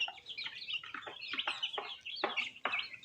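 Aseel chicks and chickens cluck and chirp in a quick, irregular series of short calls, close by and moderately loud with no speech.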